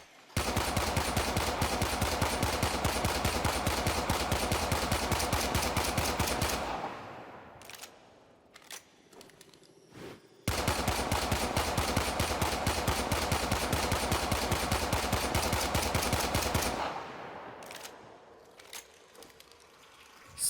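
Pistols fire in the video game Warframe in two long rapid bursts of loud, evenly spaced shots, each lasting several seconds and followed by a short quiet gap with faint clicks.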